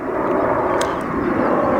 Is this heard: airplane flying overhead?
yes